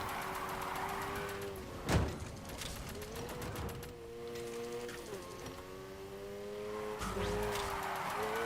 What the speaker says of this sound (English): I'm doing a drift run here